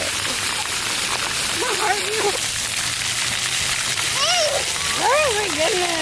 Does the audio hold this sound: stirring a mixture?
no